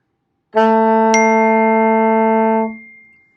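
One long, steady alto saxophone F sharp held for about two seconds with a faint brief click partway through, fading out at the end.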